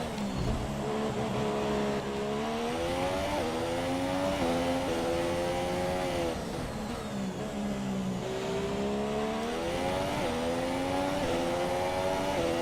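A Sauber Formula 1 car in F1 2017 screams through the rev range at Baku, its engine pitch climbing and dropping repeatedly through gear changes, loud and close without pause.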